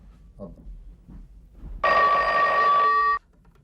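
One burst of a telephone bell rings loud and close for just over a second, then stops abruptly over a faint, quiet room background.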